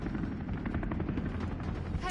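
A video game helicopter's rotor thumps in a fast steady chop, loud and close, with game noise mixed in.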